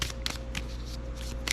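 A deck of cards for a naval tabletop war game is shuffled by hand, giving quick, crisp riffling bursts repeated several times over a low steady background hum.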